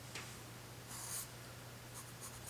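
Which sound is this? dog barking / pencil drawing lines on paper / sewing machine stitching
pencil drawing lines on paper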